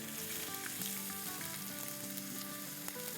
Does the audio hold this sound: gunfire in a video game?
no